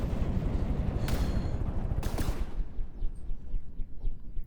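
Explosions in From the Depths, a naval combat game: two sharp booms about a second apart over a constant low rumble of engines and gunfire, then a quieter stretch.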